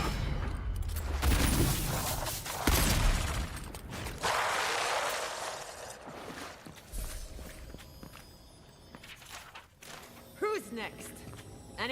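Gunfire from an upgraded gun in the Avowed video game crackles in bursts among footsteps and combat clatter, with talk over parts of the fight.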